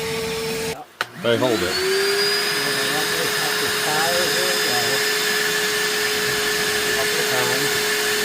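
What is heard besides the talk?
vacuum sucking debris out of PelPro PP130 pellet stove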